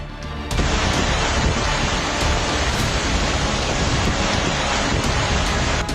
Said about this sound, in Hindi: पानी का बहाव इतना ज्यादा है कि जमीन पर पैर टिक पाना भी मुश्किल हो रहा है